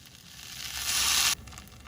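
Hash browns frying in butter in a pan give a steady close sizzle that swells louder for a moment, then drops back to a softer crackle.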